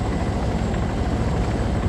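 A helicopter's rotor thumps in a dense, continuous low drone, loud and steady throughout.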